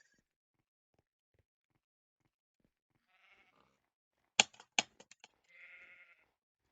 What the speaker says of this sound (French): Mouton rouge qui n'a absolument aucune peur et se bloque complètement hors thème par rapport au reste.